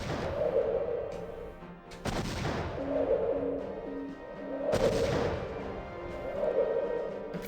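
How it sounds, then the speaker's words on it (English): Bombs dropping and exploding in the Superman 64 video game: two loud crashing blasts a few seconds apart, each decaying over a droning game soundtrack with repeating low tones. "Come on, drop another set of bombs"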